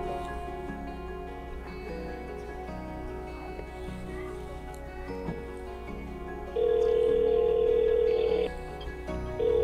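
A mobile phone ringing in an indoor short-film scene: a repeating electronic ringtone melody sounding steadily, with a louder sustained tone burst near the end.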